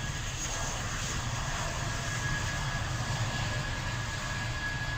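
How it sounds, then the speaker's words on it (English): An aircraft passes near Gatwick in a train simulator game, a steady, continuous engine roar with a faint high whine holding level throughout, broad and unchanging without voices. "how many planes go out of Gatwick at like 4 in the morning?"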